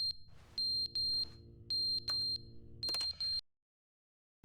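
Loud electronic fire alarm from the video game The Stanley Parable beeps in repeated bursts, then cuts off abruptly into silence near the end.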